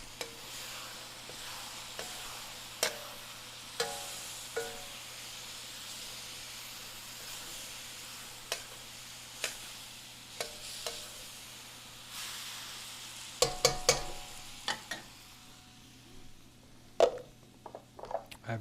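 Sesame chicken with broccoli and sauce sizzling in a pan, a steady soft hiss broken by regular sharp clinks and scrapes of stirring, with a louder clatter near the end.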